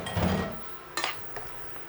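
Mushrooms dry-cooking in a pan with a little butter, heard as a soft sizzle under scattered metallic clinks and scrapes of a utensil against the cookware, close and fairly quiet.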